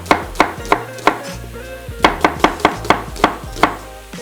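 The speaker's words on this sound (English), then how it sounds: "So I've got a brown onion that I'm just going to slice." A knife slicing through a brown onion on a board, a quick series of crisp, evenly paced cuts with a short pause midway, close and loud with no talking.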